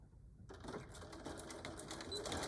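A sewing machine stitches a denim cell phone pouch, starting abruptly and running as a steady rapid mechanical whir with fast repeating needle ticks, close and fairly quiet.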